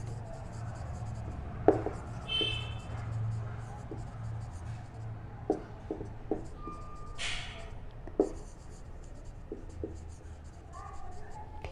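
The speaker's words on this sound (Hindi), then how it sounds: "लिख देती हूँ मैं यहाँ पे" Chalk or marker scratches across a classroom board in short strokes and taps, faint and close, beneath a steady low hum with occasional speech nearby.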